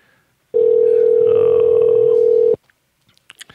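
A phone line rings once with a steady two-second tone while a live radio call-in tries to reach Brad at Summit Lighting, followed by a few faint clicks.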